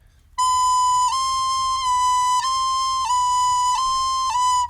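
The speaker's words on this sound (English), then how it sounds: "you can get like not clear like breaks between the notes" A recorder holds one bright sustained note that briefly dips and breaks between B and C at regular intervals, about every second, played alone.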